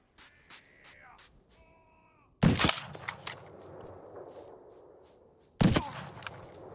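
Two sharp, loud gunshots from a firearm in the Rising World video game, fired a few seconds apart, each followed by a brief decaying tail over quiet game ambience, with some faint tones before the first.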